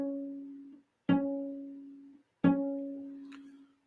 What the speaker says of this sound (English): Cellos. To play C sharp,